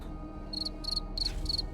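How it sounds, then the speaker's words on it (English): A cricket chirping sound effect gives four short, high trilled chirps in a steady rhythm, played over a low hum of game background noise in a Dune: Awakening session. "send me that cricket sound effect so I can put it on my stream deck"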